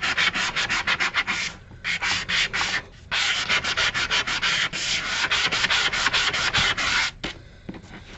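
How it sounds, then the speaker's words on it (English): Steady scraping of a fingernail file buffer block rubbed in quick repeated strokes, loud and close, with two brief pauses; no voices. "Okay, so I've got it sanded."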